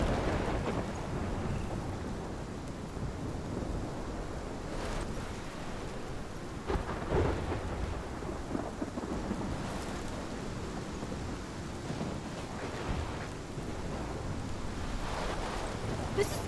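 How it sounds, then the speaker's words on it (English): A storm rages in the video game Life Is Strange: thick, constant rain and rushing wind over a dense roar, with faint rolling thunder swelling now and then across the whole stretch. "This is my storm."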